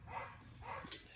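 Pet dogs barking indoors, two short muffled barks about half a second apart, faint and somewhat distant against a low room hum.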